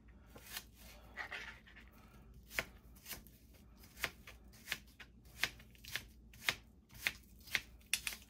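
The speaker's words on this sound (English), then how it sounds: "I'm just gonna roughly chop them" A kitchen knife roughly chopping vegetables on a board for chicken noodle soup, sharp distinct chops in an irregular rhythm that grows steadier and more frequent, close and fairly quiet.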